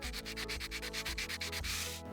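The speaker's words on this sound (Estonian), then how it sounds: "Samuti tuleb eemaldada ka suurem roostekiht, milleks võib kasutada tavalist liivapaberit." Sandpaper scrubs rust from the blade of a Japanese sickle in steady, rapid back-and-forth strokes, a close, rhythmic rasping that continues without a break.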